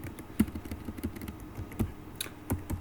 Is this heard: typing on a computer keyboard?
yes